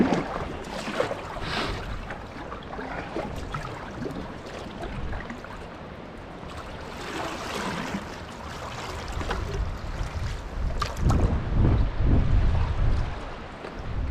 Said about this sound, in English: The wind is behind us. There's quite a wind actually.